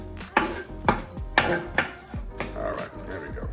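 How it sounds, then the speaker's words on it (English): A knife chops fresh cilantro finely on a board, with a handful of sharp, uneven thuds followed by quicker, softer cuts, close and loud, and no talking. "Then we're gonna finally chop the cilantro."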